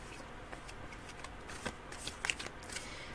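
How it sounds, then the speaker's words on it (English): A deck of tarot cards is shuffled by hand, soft riffling and flicking with a few sharper snaps toward the end, close and fairly quiet with no talking. "Shuffling the cards."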